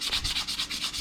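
Rhythmic back-and-forth scratchy rubbing as a part from a collapsible steering column on a Holden HT Monaro is sanded down by hand, each stroke close and evenly paced.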